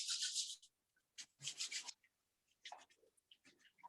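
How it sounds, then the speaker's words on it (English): Hands rubbed briskly together during a chair yoga session, giving dry, scratchy swishing bursts in quick irregular strokes, close and fairly quiet with no talking. "Gently take your both hands up in there, rub them together."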